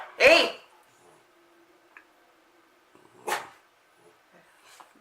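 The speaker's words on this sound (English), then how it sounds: "My dogs are going a little crazy." A pet dog gives a loud, close bark, then a second bark a few seconds later, with quiet room sounds between.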